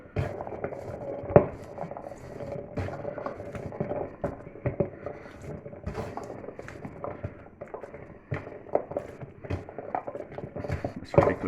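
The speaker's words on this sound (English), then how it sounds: "I'm going to mix it all together, knead it together" Sourdough dough studded with whole blueberries is kneaded by hand for schiacciata bread, giving soft irregular slapping and squishing pats with occasional sharper knocks against the bowl or counter, close and moderately quiet.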